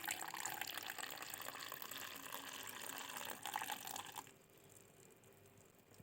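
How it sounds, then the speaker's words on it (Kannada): Milk poured into coffee decoction with sugar at home, a steady loud liquid pour and stir for about four seconds, then a quieter trickle to the end. "ಇವಾಗ ಹಾಲು ಮಿಕ್ಸ್ ಮಾಡತ್ತೇನೆ ನಾನು."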